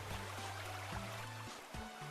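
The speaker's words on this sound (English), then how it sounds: "Alright, the waterfall is going." A waterfall flows in the video game BroadcastBit Heroes, giving a steady, even rushing hiss that runs the whole time beneath tonal game music.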